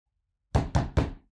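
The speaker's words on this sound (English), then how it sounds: "You yelped at a loud fist at the door" A fist knocks on a door three times, loud, close and evenly spaced, before silence returns.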